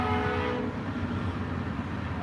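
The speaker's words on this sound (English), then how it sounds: "Comes on the train." A train passes by outside an RV, a continuous rolling rumble with faint wheel noise, moderately distant and without talk.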